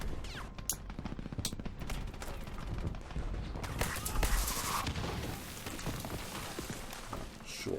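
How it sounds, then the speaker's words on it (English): Naval battle gunfire in the strategy game Hearts of Iron 3, a dense, continuous rattle of shots and booms with sharper bursts near the start and a heavier swell in the middle, steady and fairly loud throughout. "Oh, we've got a naval battle going on."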